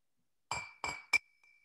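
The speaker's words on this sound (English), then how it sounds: "with this sound of the glass, I am forging it completely in." Glass clinks three times in quick succession, bright ringing strikes close by, with the last tone lingering faintly in an otherwise quiet space.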